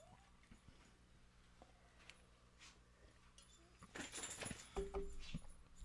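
A female dog whimpering and yipping indoors, a few thin, high cries scattered among quiet room noise, followed by a louder burst of rustling and clatter near the end.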